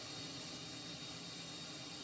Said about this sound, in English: Okay, I have started the right engine.